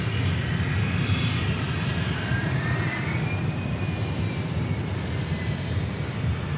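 Southwest Airlines Boeing 737 MAX jet rolling for takeoff on runway 13 left at Dallas Love Field, a steady loud engine roar with broadband rumble and faint rising whine held throughout.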